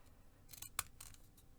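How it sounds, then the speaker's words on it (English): Quiet snips of decal edge scissors cutting through gingerbread house pieces, with a couple of crisp crunching cuts close by and one sharp click in the middle. "I'm using my decal edge scissors"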